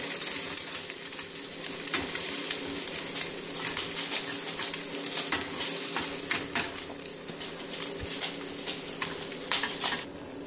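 French toast sizzles steadily in a hot pan, a continuous crackling fry with scattered sharp pops throughout.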